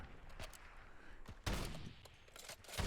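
Gunfire in a free-for-all private video game match as players open up on one character: repeated shots and short bursts crackle at moderate distance over a steady noisy backdrop, with the heaviest volleys near the middle and end.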